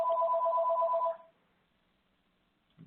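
A mobile phone rings with a bright, steady electronic two-tone ringtone, close and clear for about a second before cutting off to near silence, with a faint soft bump at the end.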